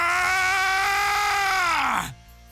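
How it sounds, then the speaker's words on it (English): Goku, the anime fighter, lets out one loud, sustained scream while gathering power. It is strained and strongly voiced, then slides down in pitch and cuts off abruptly, leaving quiet. "Goku joins his arms towards his waist and starts screaming"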